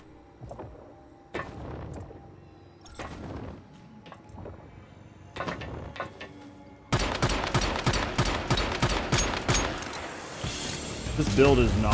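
Automatic gunfire in the shooter game The First Descendant: short separate bursts at first, then a long dense volley of rapid, loud shots, with game sounds mixed in.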